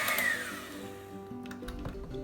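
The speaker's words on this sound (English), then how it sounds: "incorporate all of the ingredients into the whipped potatoes with your hand mixer" An electric hand mixer whipping cooked sweet potatoes in a bowl, a steady whirring motor tone that shifts slightly in pitch as the beaters move, close and alone.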